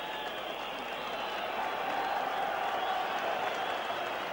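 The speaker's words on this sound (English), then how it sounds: "and appreciation being shown by the crowd for it" A football crowd at a 1978/79 St Mirren versus Celtic league match applauds a goalkeeper's brave save, steady distant clapping and crowd noise sustained throughout with a commentator speaking over it.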